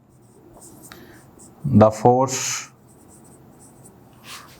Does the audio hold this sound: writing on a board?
yes